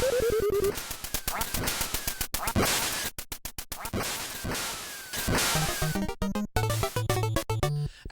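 Chiptune sound effects from the NES game Duck Hunt: chirpy descending tones, sharp zapper shots, flapping whooshes and squawky duck quacks, then rapid beeping jingles toward the end, loud and continuous.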